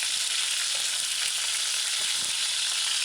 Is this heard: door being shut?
no